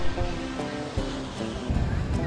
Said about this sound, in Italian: sono contentate di vedere il mare in burrasca